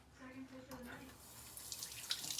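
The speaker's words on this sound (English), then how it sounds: "Quick little rinse off." Eggs get a quick rinse in a small bowl of soapy water, with splashing and trickling that swell toward the end after a brief low tone at the start.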